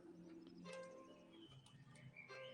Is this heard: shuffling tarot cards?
no